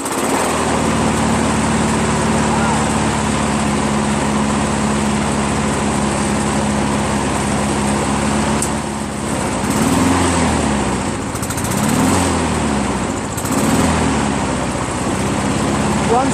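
Honda Harmony HRZ216TDA commercial-grade zero-turn lawn mower engine running on choke, a loud steady buzzing close by that dips and surges briefly in rising sweeps near the end, with speech over it.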